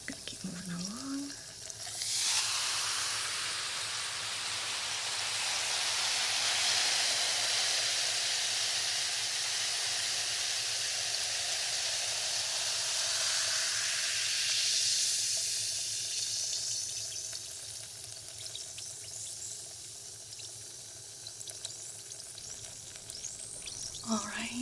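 A continuous broadband fizzing hiss plays in a sci-fi procedure, rising and falling gently over about twenty seconds, steady and close, with a faint low hum beneath it.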